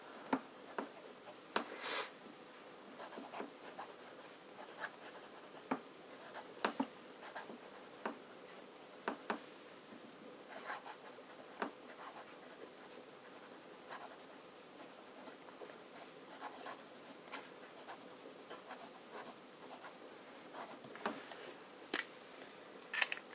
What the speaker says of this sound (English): I'll start with a bit of fine writing.